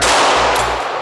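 A Ramset powder-actuated fastening tool firing: one loud, close blast that fills the whole short stretch with harsh, broadband noise.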